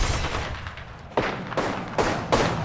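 Video game gunfire: about four sharp, loud bursts of shots coming at uneven intervals over a background rumble.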